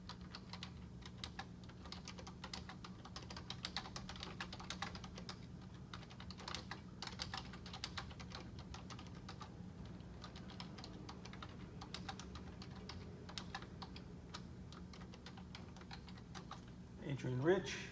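Continuous rapid clicking of a computer keyboard as someone types up literature cheat sheet terms, close and steady over faint room hum, with a brief bump near the end.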